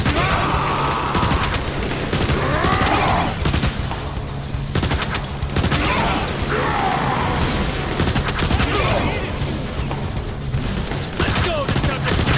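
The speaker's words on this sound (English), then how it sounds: "They're firing from the windows!" Bursts of rapid gunfire pour from windows during a Transformers: War for Cybertron battle, repeated volleys with crashes and mechanical clatter layered over loud, dense combat noise.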